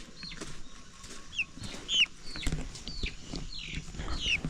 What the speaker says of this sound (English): this is chicken farm